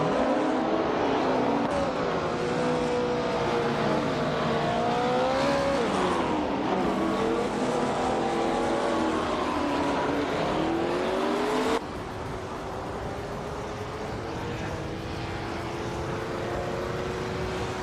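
A 1966 McLaren M1B race car in a racing video game, its engine holding a steady high-pitched drone that rises and dips through gear changes, loud and continuous with other cars close by and no talk.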